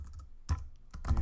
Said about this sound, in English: keep typing and returning